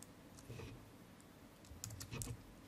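Computer keyboard keys pressed in quick scattered clicks, faint and close, with short bursts of typing.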